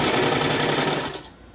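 Sewing machine stitching a half-inch folded fabric hem, a brief close steady buzzing whir that trails off after about a second, without talking.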